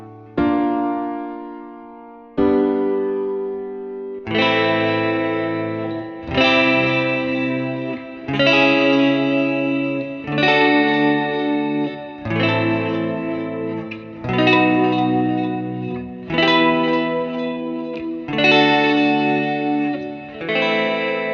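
A synth-like chord progression with chorus and distortion effects, drawn from A Lydian and closing on a major 2 chord, plays as about nine sustained chords, each struck every two seconds, loud and alone.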